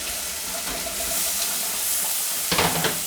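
Tomatoes dropped into browning onions in a hot pan give a steady frying sizzle with a watery hiss, which swells into a louder burst of crackling near the end.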